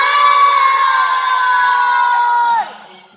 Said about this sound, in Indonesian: Ayo semua teriak bareng-bareng itu katanya